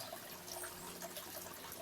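Spring water carrying a little sand trickles steadily at a hillside retreat, a soft continuous wash of running water heard faintly and alone, with no voices.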